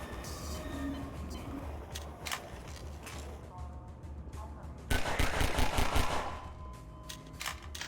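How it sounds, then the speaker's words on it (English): Explosive barrels shot and blowing up in Half-Life 2's sewer canal level, a continuous rumbling game soundscape broken by sharp cracks and a loud burst of blasts midway. "I can deal with him indirectly by shooting the barrels like that"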